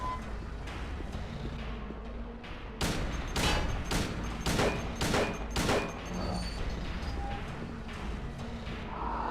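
Gunshots fired in the Silent Hill 2 video game: a burst of about six loud, sharp reports in quick succession midway, standing out over a steady low game ambience with no talking.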